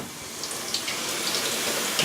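Steady rush of tap water pouring into a nearly full bathroom sink basin, a continuous close splashing hiss with small gurgles and no voices.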